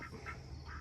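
Male ducks in their pen give a few brief quacks, moderately close, over a steady low background rumble with no voices.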